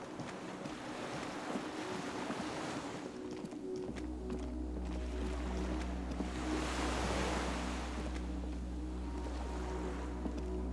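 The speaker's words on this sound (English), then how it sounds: "The skiff is swaying on the waves by the dock." A small skiff by a dock in the video game Disco Elysium rocks on the waves, with a constant wash of water and wind, a low hull rumble joining partway through, a steady ambient swell with no voices.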